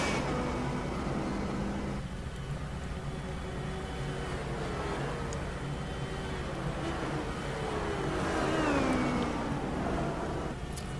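Race cars in a sim racing game at Silverstone, including a Ford GT, whine and drone steadily at moderate distance, one engine's pitch rising and falling near the end.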